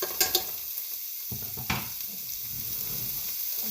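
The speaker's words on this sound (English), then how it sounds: "take a half of a medium onion and cut it up, throw it in the pan that's already heating up" Chopped half onion sizzling in a pan already heated with olive oil, a steady near frying hiss with a few light pan knocks and stirring scrapes.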